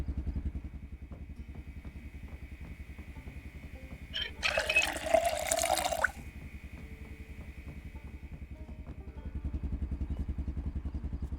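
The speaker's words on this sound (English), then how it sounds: "let's top up the water bottles." Water runs from a tap into water bottles in Project Zomboid, a short gushing splash lasting about two seconds over a low, steady humming background.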